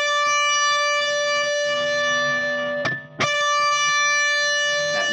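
A single sustained electric guitar note is picked on the first string at the tenth fret through an effects unit with distortion, ringing loudly with rich harmonics and repicked once partway through.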